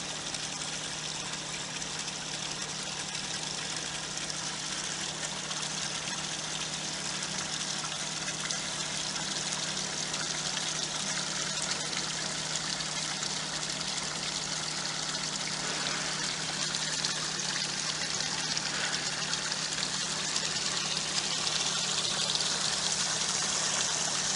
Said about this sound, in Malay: Aquarium. Maksudnya ada air tu ada pusingan. Ni pump.